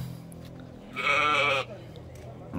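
Sakub sheep on a vegetable farmer's holding give a single loud, drawn-out bleat lasting about half a second, close by, over a low background hum and faint rustling.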